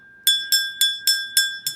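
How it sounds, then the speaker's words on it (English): A hand bell rung six times in a steady rhythm, each strike bright and ringing with a clear sustained tone that decays before the next, close and fairly loud with no talking. "I ring this bell."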